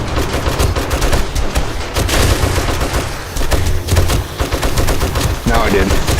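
Heavy, continuous gunfire during a horde night in the survival game 7 Days to Die: rapid, dense bursts of shots at steady high loudness for several seconds.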